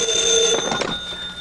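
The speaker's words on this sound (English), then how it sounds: "My private phone." A private telephone line rings, a short bright electronic-sounding bell trill heard up close and alone.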